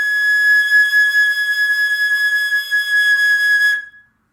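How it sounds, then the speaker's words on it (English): A high concert A flat held steadily on a wind instrument for about four seconds, clear and loud with a pure, whistle-like tone, then cutting off cleanly with a brief ring before silence. "So this is the sound of a high A flat."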